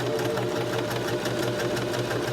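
Sewing machine backstitching back over a line of stitches in fabric, a steady fast mechanical whirr with a rapid rhythmic needle chatter running continuously at close range.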